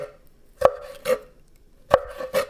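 A knife slicing through cuttlefish on a cutting board, four sharp thuds in two spaced pairs, close and distinct with no talk.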